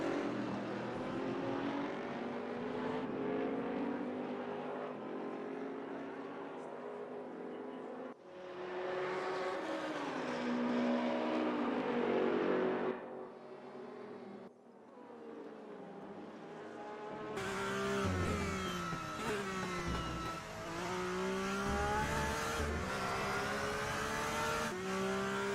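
Race car engines in Gran Turismo at Suzuka scream and rev continuously, rising and shifting through gears as cars pass, loud and sustained over the whole stretch with a brief dip partway through.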